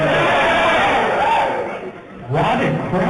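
At a TNA wrestling fan party in London, a large crowd cheers and chants loudly and continuously. The noise dips briefly and then surges back, and voices come through over the roar.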